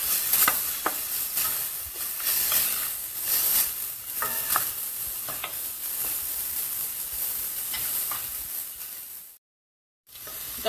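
Small pieces of chopped onion sizzle in olive oil on medium heat, a continuous hiss broken by soft stirring clicks, before a short silent gap near the end.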